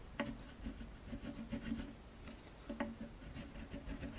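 Wax crayon rubbed back and forth over a small spot on a flea-market guitar's body during restoration, making faint, close scratchy strokes with a couple of sharper scrapes.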